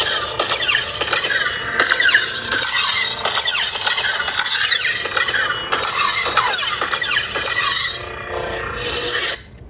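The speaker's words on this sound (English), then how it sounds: "This is the aggression font from KSith. Hit power, which is on the right-hand side." Lightsaber with the KSith aggression sound font on a Proffie board igniting and humming, a loud, harsh, buzzing drone with swooshing sweeps that runs about ten seconds before cutting off abruptly.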